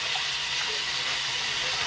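Surgical clamps scrubbed underwater with a soft-bristled brush make a steady, hissing wash of water noise that stays even and continuous throughout.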